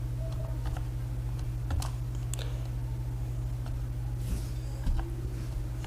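Keys clacking on a computer keyboard as a channel name is typed, scattered irregular taps over a steady low hum, fairly close.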